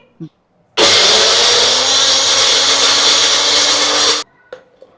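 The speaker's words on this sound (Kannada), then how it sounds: "ಹಸಿಮೆಣಸಿನ್ಕಾಯಿ ಈಗ ಪೇಸ್ಟ್ ಆಗಿದೆ. ಸ್ವಲ್ಪ ನೀರ್ ಸೇರಿಸಿದಷ್ಟೇ, ಚೆನ್ನಾಗಿ ಗ್ರೈಂಡ್ ಆಗಿದೆ" A mixer grinder whirs loudly for about three and a half seconds, grinding green chilies with a little water, with brief clicks just before it starts and after it stops.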